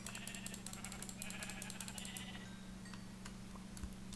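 Sheep in the Minecraft video game bleat softly in short repeated calls over a low steady hum, faint and somewhat distant.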